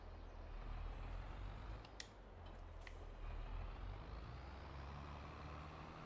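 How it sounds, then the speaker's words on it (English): A tractor trailer tips its load in a farming video game, with a steady heavy engine rumble throughout, a couple of brief air-brake hisses and clanks near the start, fairly loud and with no voices. "Let's dump the trailer in here."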